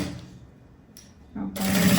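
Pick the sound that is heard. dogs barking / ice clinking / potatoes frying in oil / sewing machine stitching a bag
sewing machine stitching a bag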